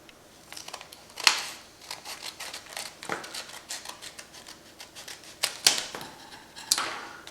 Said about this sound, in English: we're going to cut it straight across